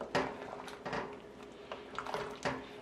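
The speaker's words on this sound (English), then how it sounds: "let's give him a little stir first. Move things around." A spoon stirring a thick Caribbean oil down stew in a pot, with repeated wet scraping and squelching strokes in an irregular rhythm, close and moderately loud.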